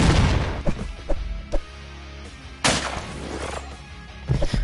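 Pistol gunshots in the slasher video game Terrifier Artcade, several sharp cracks spaced irregularly, loud and close over low game ambience.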